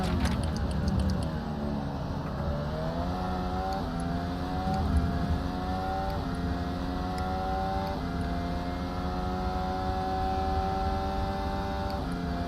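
An F1 car in a racing video game laps Bahrain, its engine whining loudly and climbing in pitch, with an upshift roughly every two seconds before it climbs again.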